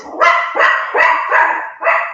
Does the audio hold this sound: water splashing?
no